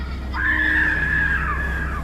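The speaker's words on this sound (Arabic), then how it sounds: "صوت صريخ" A single drawn-out, high-pitched scream rings out as a horror sound effect during a train crash scene, lasting over a second above a low steady hum.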